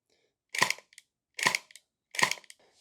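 A SplatRBall SRB400 gel blaster fires three single shots, each a sharp mechanical snap-and-whir burst spaced almost a second apart, loud and close, with no talking.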